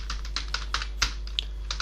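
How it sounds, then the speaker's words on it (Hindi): Fingers tapping out code on a computer keyboard, a quick irregular run of close key clicks with a few harder strokes, over a steady low hum and no voices. "ये देखिए अब इसके अंदर हम टाइप करेंगे अपना कोड।"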